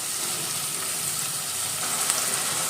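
Onions sizzle steadily in a tablespoon of oil with green chillies and salt, a continuous close hiss and crackle of frying filling the pan, with no talking.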